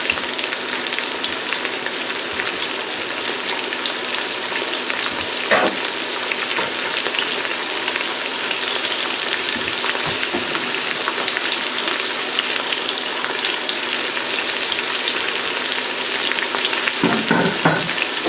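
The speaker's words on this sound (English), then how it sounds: "what I'm doing is I'm sweating them down. I'm starting the cooking process." Garlic, celery, carrot, bay leaves and peppercorns sweat in a pot as the base for duck stock, giving a steady, loud, close sizzle and crackle that runs unbroken throughout, with a few faint knocks along the way.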